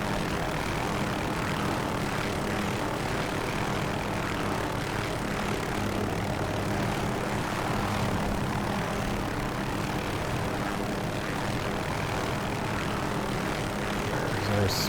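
Loud, steady roar of an OH-6A helicopter's turbine and rotors spinning up in the DCS flight simulator, a dense continuous drone with no voices over it.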